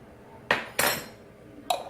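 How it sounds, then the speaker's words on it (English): A regular metal spoon knocks against a dish while heaping garlic into a freezer-meal mix: three sharp, close clinks, two in quick succession and one after a pause, over a quiet room. "I'm gonna put 2 heaping spoons of garlic in there."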